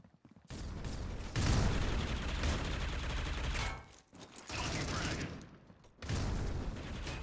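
Dense gunfire from a Critical Ops esports match, rapid shots from rifles and shotguns firing in sustained loud bursts that overlap almost continuously, broken by brief lulls.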